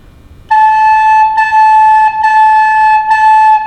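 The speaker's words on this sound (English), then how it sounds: "We do a push-up to A, like this, and play A 4 times." A recorder plays the note A four times in clean, steady, sustained tones with short breaks between them, loud and close with no talking.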